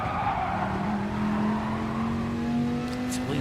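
Race cars battle for seventh place in a GTTCC Elite 1 sim race, engines revving loud and close with a steadily rising pitch and tires squealing throughout, ending on a brief sharp burst.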